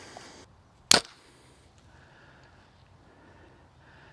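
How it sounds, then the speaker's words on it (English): A Hoyt RX-4 Ultra bow looses an Easton FMJ 5mm arrow: a single sharp, loud snap-thwack, followed by near silence with faint room noise. "so I'm shooting through this bow right now"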